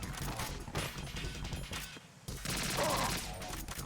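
Gunfire in the Metal Gear Solid 2: Sons of Liberty video game, a dense burst of loud game shots and crashes running throughout, with a brief lull midway before the firing resumes.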